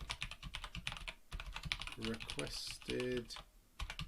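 Typing on a computer keyboard, steady quick clicks of keys heard up close, with someone talking briefly partway through.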